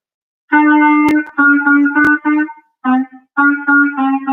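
A clarinet plays a sustained D sharp repeatedly in short phrases, clear and close, with a couple of sharp key clicks between notes.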